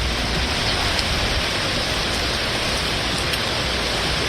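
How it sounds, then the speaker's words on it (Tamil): Heavy continuous rain pours down in Anantnag, Kashmir, during monsoon flooding, a loud, dense, unbroken hiss with no pauses and no voices. "அனந்த்நாக் பகுதியிலும் தொடர் மழையால் வெள்ளப்பெருக்கு ஏற்பட்டது"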